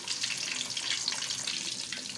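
Fish frying in hot oil in a home kitchen, Lahori restaurant style: a steady, dense hiss of sizzling that stays level throughout, with no voices.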